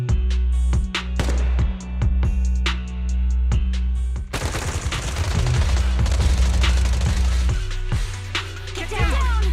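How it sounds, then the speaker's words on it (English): Rapid bursts of gunfire from Zenless Zone Zero gameplay rattle in sharp, repeated cracks over a low droning game soundtrack, then blur into a denser wash of shots and effects, with a character's voice speaking amid the action. "Suppressive marching fire."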